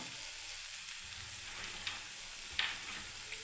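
Steady frying sizzle of vegetables cooking in a pan for Maggi noodles, close and continuous, with a few soft stirring knocks and scrapes.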